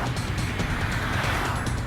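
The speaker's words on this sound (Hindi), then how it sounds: "ये देखो भयंकर हैवी ट्रैफिक है यहाँ पर" Dense highway traffic in India rushes past nearby, a continuous loud roar of engines and tyres with no breaks in the flow.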